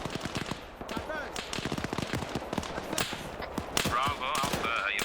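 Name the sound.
gunfire in a video game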